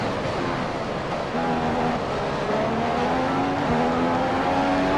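A Formula 1 car in F1 2015 brakes and corners at the Australian GP, a loud continuous engine drone with shifting pitch and layered mechanical whine that carries on without pause.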